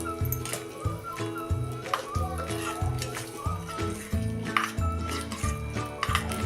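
Potato bharit is stirred in a pan with steady scraping and clinking of a utensil against metal, continuing without pause.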